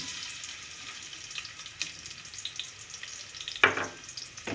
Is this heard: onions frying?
yes